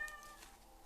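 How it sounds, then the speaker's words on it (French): A pet cat lets out a single short, faint meow at the very start, followed by quiet room ambience. "Vous voyez, mon chat, il est d'accord, il miaule."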